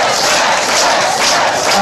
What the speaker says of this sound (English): We got a hot crowd here.